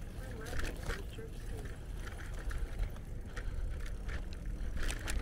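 Bicycle ride through streets of Layton, Utah: steady rolling rumble and wind noise with faint ticking of the drivetrain, continuous and close throughout, with a voice speaking over it.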